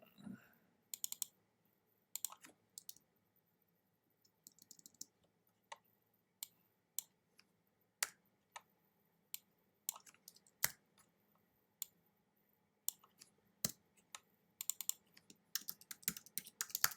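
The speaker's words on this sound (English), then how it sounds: "So I'm using a Mac, so I'm pressing Command A." Keyboard keys on a Mac clicking in scattered bursts while modeling in MATLAB's PDE Toolbox, quiet close-up taps with pauses between groups and a rapid flurry near the end, no talking.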